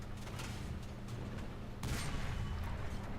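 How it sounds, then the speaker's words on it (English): War Thunder's Chi-Ri II tank fires its secondary gun: a single sharp blast lands about two-thirds of the way through, breaking over a steady low engine rumble. "I send off a shot with my secondary gun."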